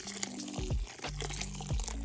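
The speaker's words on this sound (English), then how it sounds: "I will just wash it with a little bit of water and Dawn dish soap" Water splashes and trickles as a vintage Integrity Toys doll's hair is washed with water and Dawn dish soap, giving short wet sloshing bursts close by over a steady tonal background.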